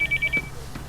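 A cellphone rings with a short pulsing electronic tone, four quick beeps in a row, fairly soft and close, with brief faint background noise after.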